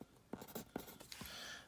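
A pen scratches across paper while an embryo diagram is drawn, a few quiet, close strokes with soft scraping bursts spaced irregularly in a hushed room.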